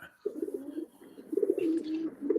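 A pigeon at a racing-pigeon auction coos up close, two low, throaty rolling phrases with a brief break between them.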